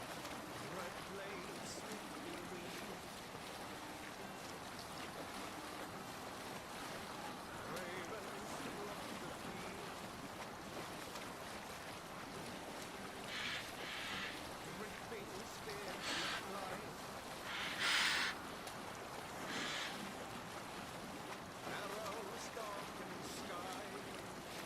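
Steady wash of wind and ocean waves as a Viking longship sails at sea in Assassin's Creed Valhalla, continuous and fairly quiet, with a few brief hissing bursts of spray.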